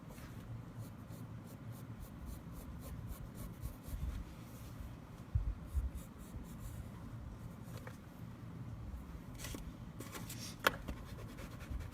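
Colored pencil being worked on paper, drawing an elephant: soft, close scratchy strokes repeating in quick rhythmic bursts, faint and steady, with no voices.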